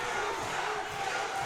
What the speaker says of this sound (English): The crowd is going wild for Bucia.